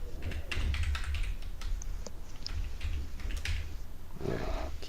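Computer keyboard typing in clustered bursts of quick key taps, close and fairly loud, with a steady low hum underneath and no talk during the clicks.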